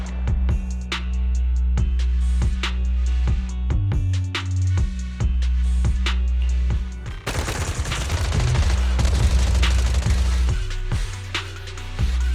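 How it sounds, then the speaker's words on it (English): Sustained automatic gunfire in the video game Zenless Zone Zero, rapid repeated shots marching in a steady pattern over a low droning score, growing denser and louder in the second half. "Gunfire? This pattern. Suppressive marching fire."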